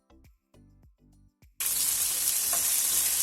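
Garlic, onion and peppers hit a hot pan and burst into a loud, steady sizzle that continues alone, after a few short knocks and clatters of ingredients being tipped in.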